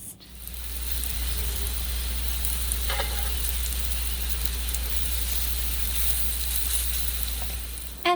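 Breakfast sizzling steadily in a pan on the stove, a continuous hissing bed with a low hum underneath and a couple of brief clinks, close and even throughout.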